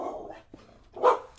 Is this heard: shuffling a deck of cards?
no